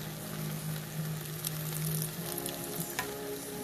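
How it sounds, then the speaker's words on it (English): Collard greens boil in a pot with meat, giving a steady bubbling, sizzling hiss with a low hum beneath and a few faint clinks, close and continuous. "So my collards are boiling."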